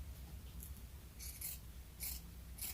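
Scissors cut through vest fabric while sewing: a few short, soft snipping and slicing strokes spaced irregularly, close by and quiet over faint background hum, with no voices.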